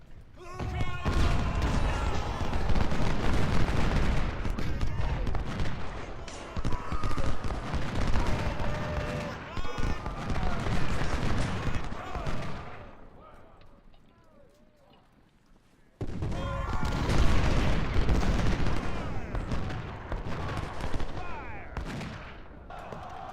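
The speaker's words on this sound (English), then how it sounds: "My rifled artillery's opened up." Rifled Civil War artillery fires in a strategy game, with dense rolling volleys of cannon and gunfire booming in long loud bursts, a brief lull fading near silence, then another heavy barrage.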